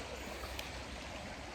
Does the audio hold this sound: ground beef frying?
no